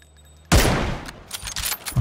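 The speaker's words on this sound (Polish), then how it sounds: "Okej, nietrafiony strzał." A loud gunshot bursts out at once in the video game PUBG, followed by a ringing, rumbling decay with a few fainter sharp cracks trailing after it, with no voices over it.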